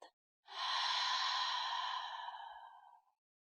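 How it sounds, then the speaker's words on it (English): A single long breath pushed out through the mouth, a soft airy exhale lasting about two and a half seconds and fading at the end, close and clear with no talking. "take a breath in through your nose and then breathe out through your mouth"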